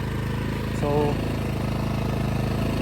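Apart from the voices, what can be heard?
Toyohama generator engine idling, warming up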